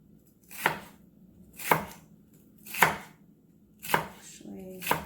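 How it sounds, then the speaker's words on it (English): A knife slicing an onion finely on a cutting board, five sharp, evenly spaced chops about a second apart, close and crisp with quiet pauses between. "And then same thing with my onion. I'm just going to slice it"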